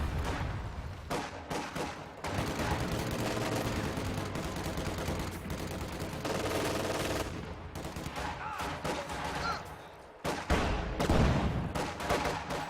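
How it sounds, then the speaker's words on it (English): Field gun fire and a barrage in a Company of Heroes 2 2v2 battle, a dense continuous roar of gunfire and explosions with heavy booms, loud throughout and briefly dipping before a sharp blast. "Field gun."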